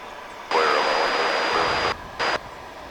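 A UPS Boeing 757 cargo jet at Dallas-Fort Worth airport, a loud steady engine roar with a high whine that cuts off abruptly, then returns in a short burst.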